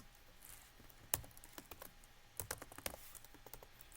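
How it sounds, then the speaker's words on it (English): Quiet, close keystrokes tap on a computer keyboard in irregular bursts, a sharper key press standing out among the softer clicks. "I'm going to type Hello World Vihan."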